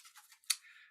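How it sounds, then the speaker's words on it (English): Tarot cards being shuffled make a quick, faint series of soft papery riffles ending in one sharper snap, heard close and alone. "So I'm going to shuffle here."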